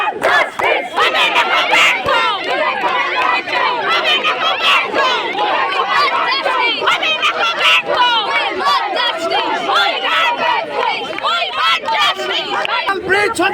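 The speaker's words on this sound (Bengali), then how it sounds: "এবং এই সন্দীপ ঘোষকে ঘিরে কিন্তু চোর স্লোগান তোলে সেখানকার উপস্থিত মহিলা আইনজীবীরা" Outside court, a dense crowd of women lawyers loudly chants 'thief' slogans at Sandip Ghosh near a prison van. The massed shouting is continuous and close, with rhythmic bursts rising from the overlapping voices.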